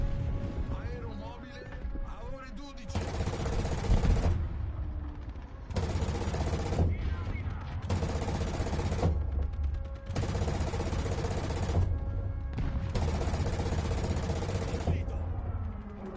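Gunfire in War Thunder as a bomb is shot out of midair: loud sustained bursts of automatic fire, five or so long stretches separated by brief gaps over a steady engine drone.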